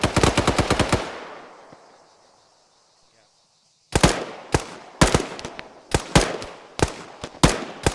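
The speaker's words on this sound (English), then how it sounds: "Looks like that 240 is engaging" Automatic gunfire from an M240 machine gun in a military combat video game, loud, dense bursts at the start that die away, then a run of sharp, repeated bursts after a short gap.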